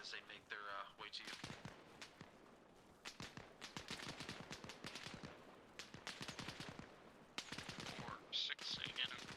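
Repeated gunshots fired overhead during a platoon squad section practice, sharp cracks in irregular bursts and rapid strings, some near and loud, others more distant, with faint voices in between.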